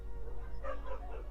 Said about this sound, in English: that's 2 dogs that just met outside